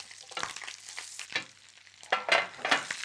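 Roasted cauliflower pieces sizzle in harissa and honey butter in a pan. The sizzle is soft and close, with bursts of stirring and tossing in between and no talking.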